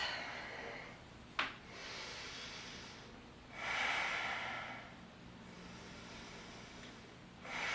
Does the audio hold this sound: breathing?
yes